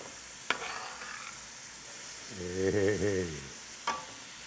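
Chopped bell pepper and onions sizzle in a hot pan while being stirred, giving a steady, close frying hiss with a few sharp clicks from the utensil; a voice briefly calls out over it.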